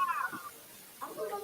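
A house cat meows indoors, two short tonal calls close by, one at the start and another about a second later, with a quiet gap between them.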